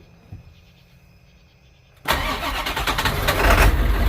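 A Ford F550 rollback tow truck engine cranks and fires after quiet background ticking, then settles into a loud, rough idle that keeps building slightly.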